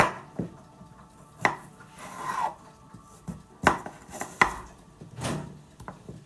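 A knife chopping food on a board in a home kitchen: a quiet series of irregular, sharp knocks with soft scraping between them, without talk.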